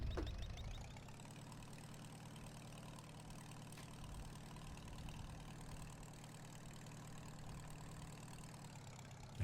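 A video game vehicle's engine drones steadily and loudly in fifth gear on a farm, a continuous mid-low hum that holds nearly level for the whole stretch with no talk over it.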